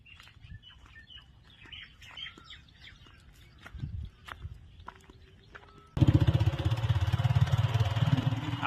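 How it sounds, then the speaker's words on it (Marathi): A Luna moped is kick-started on a village morning: birds chirp softly, then its small engine bursts into a loud, steady, close running drone that continues to the end. "आपल्या लुणाची किक मारून मी निघालोय"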